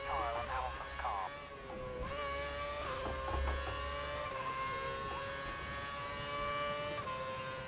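Formula One cars from F1 2011 racing round the Hungarian Grand Prix in a Williams career mode, engines whining steadily at high pitch with shifting tones throughout, under a continuous race mix and occasional commentary.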